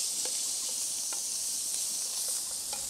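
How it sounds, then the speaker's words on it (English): Slivers of meat searing in bacon fat and butter in a pan, giving a steady, bright sizzle with faint crackles and small pops scattered throughout, close and constant. "We'll just seal those in the lovely bacon fat and butter till they've just taken a bit of colour."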